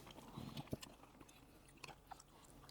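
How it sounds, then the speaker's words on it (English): Faint, close chewing of yukgaejang spicy beef soup with crunchy mung beans and green onions, a few soft crunches and bites spaced irregularly in a quiet room. "The mung beans have their little crunch to them"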